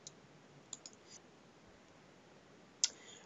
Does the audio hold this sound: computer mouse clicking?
yes